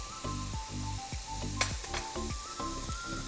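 Finely chopped green chilies fry with lightly golden onion in hot oil, a continuous close sizzle with rhythmic low thumps and scrapes from stirring, no talking.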